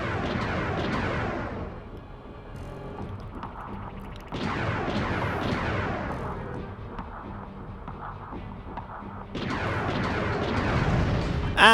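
Explosions from a decoy glove in a Ratchet and Clank game detonate near a commando: three loud booming bursts spaced a few seconds apart, each rumbling and fading, separated by quieter game ambience.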